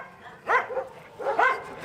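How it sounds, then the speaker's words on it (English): Dogs at an animal shelter in Hostomel, Ukraine, bark in two close, sharp yelps about a second apart, loud and near with no talk. "the dogs he cares for at the shelter he runs here"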